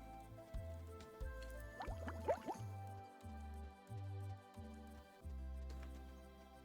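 A watering can is refilled in the farming video game Cropia, with short gurgling, dripping liquid bursts and chunky squishy fills that come in a series of separate, evenly spaced pulses, close and fairly quiet.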